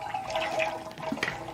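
Ice cream mix for black raspberry chocolate chunk ice cream is poured into a machine, a close, splashing liquid rush with gurgling and dripping over a second and a half.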